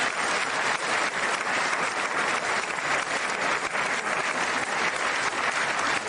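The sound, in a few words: audience applause at State of the Union address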